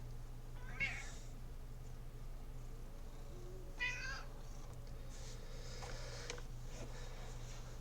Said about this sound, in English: The cat is being ornery again this evening.